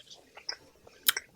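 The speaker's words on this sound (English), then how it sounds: "I can hear every single lip smack and crunch" Close, quiet mouth sounds of someone eating, with a few soft wet lip smacks followed by a sharper crunching bite near the end, spread irregularly over a second and a half with no talk.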